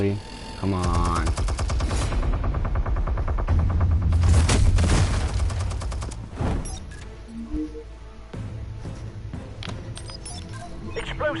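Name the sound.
minigun firing in the Batman Telltale Series video game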